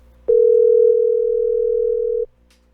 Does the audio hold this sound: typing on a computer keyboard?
no